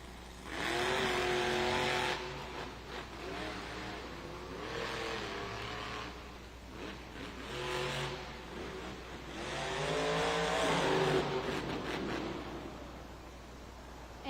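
The Kraken monster truck, driven for JCB Racing at a Monster Jam arena event in Raleigh, North Carolina, roars through a racing run, its engine revving loud and continuous with surging throttle swells and no talk over it.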